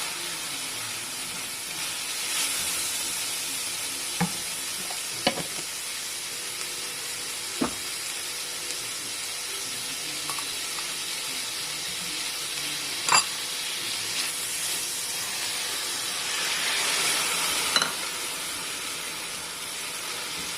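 Sauce for broccoli Manchurian sizzles in a pan with crushed red pepper flakes, a continuous soft frying hiss with occasional sharp pops and stirring scrapes, close and steady with no talk.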